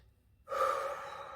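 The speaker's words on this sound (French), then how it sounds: "on inspire" A single deep breath drawn in, quiet at first and then swelling into a steady, airy inhale that holds through to the end, close and alone with no talk over it.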